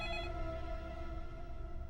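A telephone rings early in the morning indoors, a faint steady electronic tone that holds through the whole moment with no voices over it.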